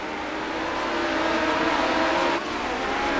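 Sprint cars racing on a dirt oval in iRacing, the engines a steady, dense roar of several cars bunched together through the corners, with a brief dip in loudness near the end.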